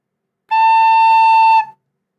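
Single sustained recorder note A (La), pure and steady for just over a second, played solo and near with nothing else around it.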